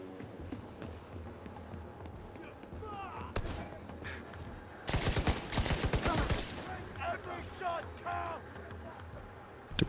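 Gunfire in the shooter game The Division 2, scattered shots building into dense crackling volleys, mixed with footsteps and game sounds while someone talks.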